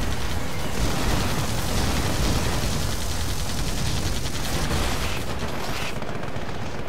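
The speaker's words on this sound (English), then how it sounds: "the double Helix missiles actually doing a lot of damage from a distance" Helix missiles launching and exploding in the AirMech Maelstrom game form a steady, loud wall of rapid-fire bursts and booms that holds throughout the clip and ends in a brief drop-off.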